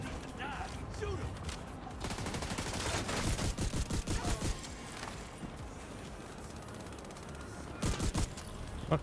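Rapid automatic gunfire in the shooter game Destiny, loud bursts of machine-gun fire rattling steadily for several seconds, then a short final volley near the end, with mechanical clatter underneath.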